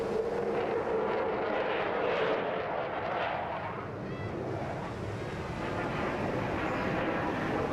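An aircraft at an airshow flying a slow roll, a constant broad roar of engine and rushing air that holds at a loud, even level throughout, with faint crowd and wind noise mixed in.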